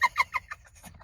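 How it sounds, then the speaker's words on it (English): Several birds flying around a truck give a quick burst of clucking, chattering calls, loud and close at first, then trailing off into softer chirps. "I know I'm looking at these birds, they just flying all around the truck, everything"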